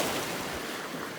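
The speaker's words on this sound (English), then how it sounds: "hopefully you can hear me over the noise of the waves" Ocean waves and surf make a loud, continuous rushing wash close by, with some wind buffeting the microphone.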